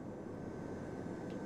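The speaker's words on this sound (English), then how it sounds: "Hey, wait, is that a drone?" Steady droning whir of a drone hovering in the video game Astral Chain, a continuous broadband hum with a faint higher whine, heard alone without talk.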